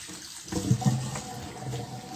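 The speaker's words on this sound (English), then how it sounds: "We'll make sure this is well rinsed." Tap water runs continuously into a sink while frozen meat is rinsed under it, with soft splashing and a few louder gurgles and thuds near the start.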